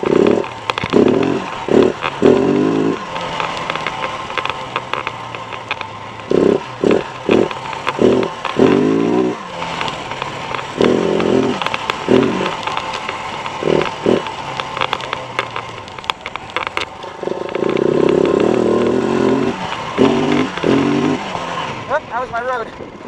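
A KTM 690 single-cylinder motorcycle revs hard in repeated bursts, the engine note climbing and dropping in choppy blips between steadier stretches of running, loud and close with wind noise throughout.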